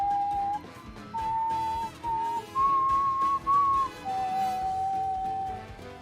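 Melodic whistling from the video game One Piece Odyssey, several sustained tonal phrases shifting in pitch with brief gaps, loud and clear over a soft musical background.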